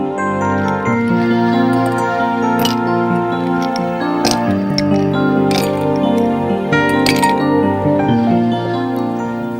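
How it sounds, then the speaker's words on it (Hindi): Ice cubes tumble into a serving glass for a milky almond-pistachio sharbat, giving a few separate bright clinks spread across the clip, partly buried under steady background music. "उसमें डालें आप कुछ आइस क्यूब्स"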